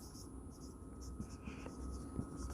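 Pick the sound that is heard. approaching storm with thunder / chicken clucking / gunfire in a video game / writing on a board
writing on a board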